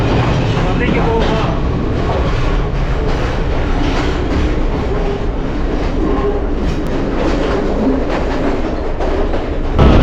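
Train on the Sri Lanka hill railway, a Vistadome carriage near Nanu Oya station, running through a tunnel: loud, dense rumbling and rattling with clickety-clack wheel beats, echoing continuously, while voices are faintly present.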